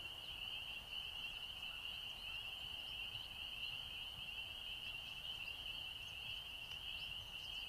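Frogs trill in the background on a disc golf course during the Blue Ridge Championship, a steady, high, continuous chorus held evenly at moderate distance over faint outdoor ambience.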